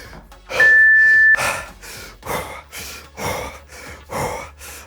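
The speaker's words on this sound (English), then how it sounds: "I am breathing hard" Heavy, rhythmic breathing after bodyweight home exercise, close and loud, with about seven forceful breaths in and out at a steady pace and no speech.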